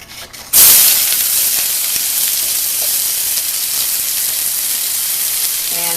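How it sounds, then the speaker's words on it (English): Onions dropped into hot garlic-infused oil in a pan for sautéing: a sudden loud hiss erupts, then settles into a steady, dense sizzle that continues close by without letup. "I'm just going to stick the onions in first"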